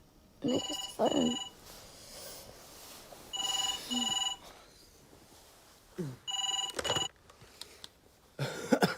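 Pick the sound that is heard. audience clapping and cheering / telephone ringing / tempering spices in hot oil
telephone ringing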